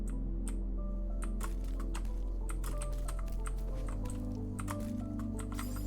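Fingers type on the main computer keyboard in quick, irregular clacks close by, sitting over a steady electronic hum.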